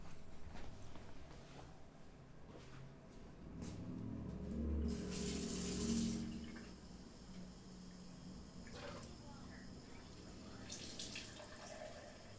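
Water running from a tap while someone fills a glass: a quiet, steady stream with a brief louder splash partway through, faint in a room, with no one talking.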